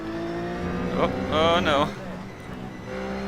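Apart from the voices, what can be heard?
race cars passing in iRacing video game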